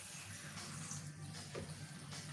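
A kitchen tap runs steadily while spinach is washed in a sink, giving a continuous faint rush of water with no talking.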